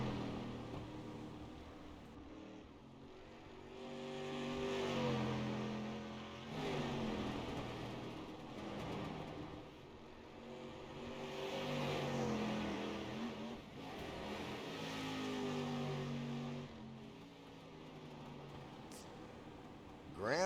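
Street stock race cars lap in a racing video game, their engines swelling and fading in repeating waves as they pass, revving through the turns, with some faint talk over the steady roar.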